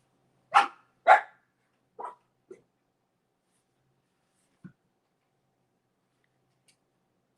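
Casper, a small dog, barks in a few sharp, close yips with pauses between them, followed by fainter isolated sounds in an otherwise quiet room.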